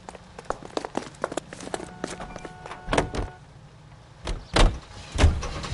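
Character climbing into a car in the crime game L.A. Noire, with footsteps, a door thump and rising engine and movement noise as the vehicle pulls away, several sharp knocks near the end.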